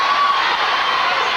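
A boxing crowd cheers loudly during a toe-to-toe exchange in round two of Paul Gonzalez vs Jose Torres, a dense, sustained roar that fills the whole moment.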